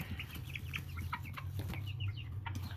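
American Bresse chickens cluck and chirp in a pen, with short repeated calls close by over a low rumbling background and no talk.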